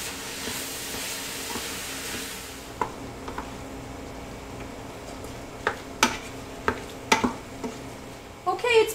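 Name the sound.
ground lamb cooking and stirred with onions and garlic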